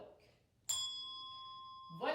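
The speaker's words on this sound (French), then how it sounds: "J'ai devant moi de belles cloches à pression, j'ai pas besoin de les secouer, je vais juste appuyer dessus" A single press desk bell tuned to the note C rings once with a bright, sustained metallic tone that slowly decays, quiet and close, followed by a brief bit of talk.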